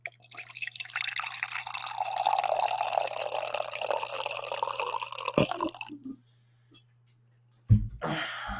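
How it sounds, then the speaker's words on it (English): Coffee poured steadily into a cup, a close continuous liquid stream for about six seconds, then silence broken by a couple of faint clinks. "I'm going to pour my last coffee here"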